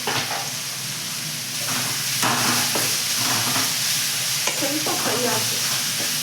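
Crumbled idli for upma fries and sizzles in a pan, a continuous hiss broken by scraping stirs and light clinks of a spoon, close up.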